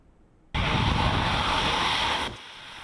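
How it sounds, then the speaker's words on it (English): An AT-5 Brave Eagle jet trainer of Taiwan's Air Force roars in abruptly, a loud broadband engine blast that holds steady for nearly two seconds, then cuts down to a lower rumble. "This is the AT-5 Brave Eagle, the latest addition to Taiwan's Air Force."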